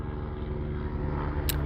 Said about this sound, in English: I want you to hear the helicopter.